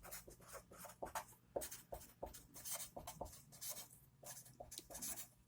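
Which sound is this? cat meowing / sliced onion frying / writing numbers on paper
writing numbers on paper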